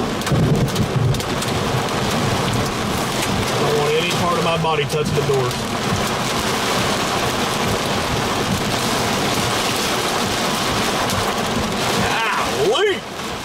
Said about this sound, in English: These lightning strikes are right on top of me.